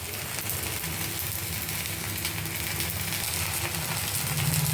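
Pesarattu, a green gram crepe, frying in oil on a hot pan, giving a steady, close sizzle with a low background rumble and no pauses.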